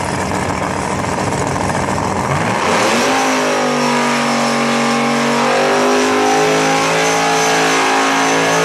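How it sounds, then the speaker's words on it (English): Pro modified drag race cars at Bradenton Motorsports Park, engines revving hard and climbing in pitch, then holding a loud, rich, sustained roar close by with steady harmonics, no talk over it. "See a couple more pro modified cars coming around the corner, it looks like."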